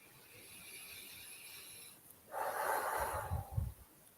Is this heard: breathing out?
yes